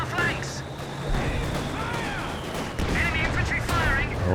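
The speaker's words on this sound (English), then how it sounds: "Attacking our flanks. Enemy infantry firing." Infantry rifle and machine-gun fire crackles through a Company of Heroes 2 battle, dense bursts of gunshots with bigger booms over a steady rumble of combat, continuous and fairly loud, with a commentator talking over it.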